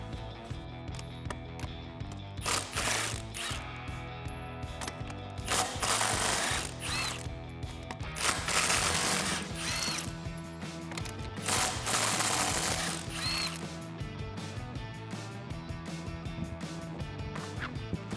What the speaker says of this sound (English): I'm going to be using a 13/16 inch deep socket, as well as a small extension to give myself a little bit of room.